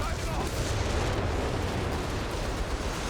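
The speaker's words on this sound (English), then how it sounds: "Okay, we've got a whiz bang." Whiz Bang rockets slam down in Company of Heroes 3 as a thick, steady rumble of overlapping explosions and crackle. It is loud and unbroken, with a voice faintly under the din.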